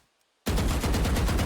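Gunfire in Valorant aimed at a wall, a sudden loud burst of rapid automatic shots that starts abruptly after a brief near-silence and keeps hammering steadily to the end.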